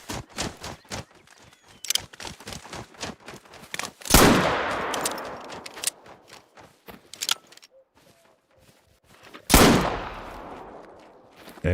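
Two loud, close shotgun blasts from a .410 in pistol format in a hunting video game, each a sharp crack with a long decaying tail, preceded by a rapid series of clicks and mechanical handling sounds.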